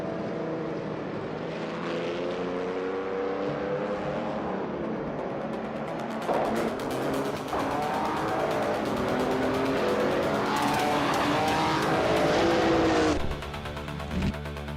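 Race cars roar past in a continuous loud rush of engine drone, rising and falling pitches with tire squeal and skidding, building to a dense peak before easing near the end.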